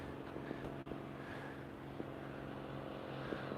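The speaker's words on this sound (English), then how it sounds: "That's a beautiful plane, too." A propeller airplane drones overhead on a clear day outdoors, a steady low engine hum with harmonic buzz, moderately distant and fairly faint, with a couple of small clicks nearby.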